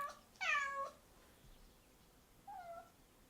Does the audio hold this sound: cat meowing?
yes